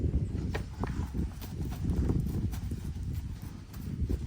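A horse shifts its feet, its hooves clopping in irregular, uneven steps on a firm surface, close by and fairly loud, with several distinct footfalls and shuffles across the stretch.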